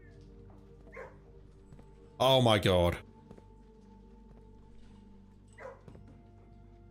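A short burst of hound barking from a kennel in the video game Blue Prince, a brief loud cluster of barks in the middle over a quiet hum, with a few faint voice sounds before and after.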